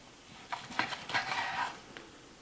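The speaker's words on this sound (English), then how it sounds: "And we're just gonna slice this whole thing up" A knife works through cooked steak on a cutting board, giving a short series of light clinks and scrapes, close and fairly quiet, with no talking.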